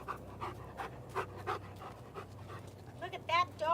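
A large dog pants in rapid rhythmic breaths close by, with people chatting over and around it.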